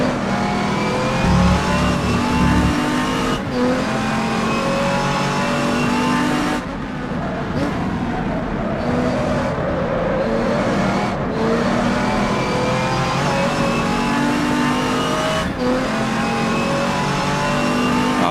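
Race cars, a Ferrari among them, lap Brands Hatch in a GT racing game set in 1986. Loud engines rise and fall in pitch through repeated gear changes, with brief cuts in the sound and occasional tire noise.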